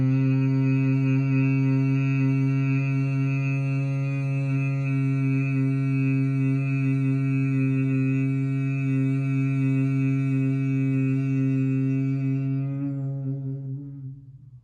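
A group hums together in Bhramari bee breath during a yoga class, a steady, loud low drone with rich overtones held for about thirteen seconds before fading out.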